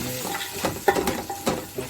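Chickpeas tipped into mutton frying in a pot for yakhni pulao, giving a steady sizzle with stirring scrapes and a few sharp clinks of utensil against metal, close up and with no talking.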